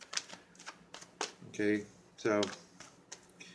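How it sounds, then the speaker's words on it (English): Tarot cards being shuffled, several quick riffling bursts heard close by between stretches of a person talking. "I'm getting these cards shuffled up"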